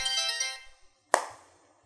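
Phone ringing, a bright trilling ringtone that fades out, followed by a single sharp tap or click after a brief pause.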